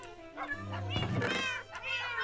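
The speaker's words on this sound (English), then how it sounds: "Where are all these cats?" Several cats meow near the listener, overlapping drawn-out cries against outdoor background noise, moderately loud with no talking.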